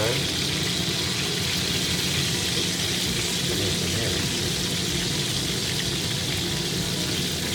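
A thick steak sizzles in a hot cast iron skillet, a dense, steady hiss and crackle of frying fat that stays loud and unbroken throughout, with no talking over it.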